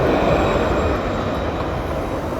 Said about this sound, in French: Regardez notre beau tramway